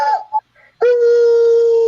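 Mr. Briggs the dog lets out a brief whimpering yelp and then breaks into a sustained, loud, steady howl close by, as though singing.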